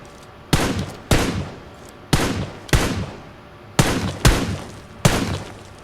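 Shotgun blasts in a PUBG-style shooter game fire seven times at irregular intervals, each a loud, sharp boom that decays quickly, with no voices over them.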